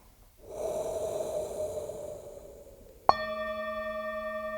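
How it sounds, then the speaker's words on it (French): Slow guided breath drawn audibly in through the nose, then let out through the mouth, close and alone in a quiet room, followed by a sharp click and a sustained ringing bell-like tone. "d'inspirer par le nez. Vous pouvez faire un bruit et puis on expire par la bouche."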